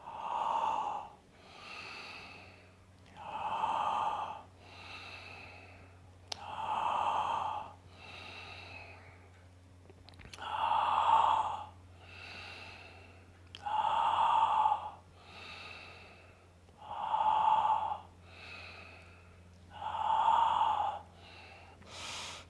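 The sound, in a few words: intense breathing exercise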